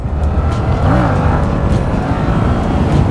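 A motorcycle accelerates in second gear, its engine a steady, loud drone that rises slightly in pitch as it picks up speed, heard up close with no talking.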